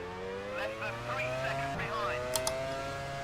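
Formula One cars in the F1 Challenge '99-'02 racing game during the 1998 Canadian Grand Prix, high whining engine notes sliding up and down through gear changes, with a Ferrari passing and a speaking voice mixed in.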